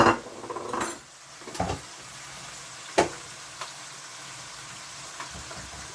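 Red herring going into a cooking pot for Jamaican red herring with ackee: a few clanks and metallic knocks of the pot and utensil, then a faint sizzle or simmer with occasional small clinks.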